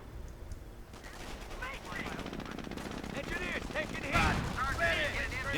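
Automatic gunfire and battle noise from the video game Company of Heroes, dense bursts of rattling shots and impacts building in intensity, with game voices talking over the din.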